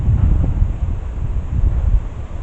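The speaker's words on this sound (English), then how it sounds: "pretty crazy the wind today" Strong outdoor wind buffeting a microphone in a garden with bean trellises, a loud, continuous low rumble with gusty swells and no break throughout.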